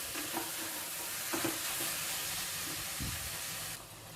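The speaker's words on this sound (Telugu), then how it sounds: "ఇప్పుడు ఇదంతా ఒకసారి కలుపుకొని ఒక 5-6 నిమిషాలు ఈ చికెన్ని బాగా ఫ్రై చేయాలి" Marinated chicken fries and is stirred in a cooker, giving a soft, continuous sizzle with several scraping stir strokes at close range and no talking.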